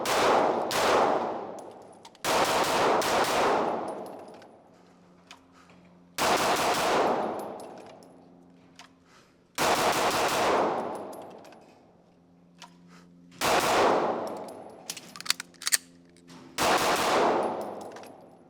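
Loud SIG Sauer pistol shots at an outdoor range, fired in six separate bursts of rapid shots, each crack ringing out with a long decaying echo and short quiet gaps between strings.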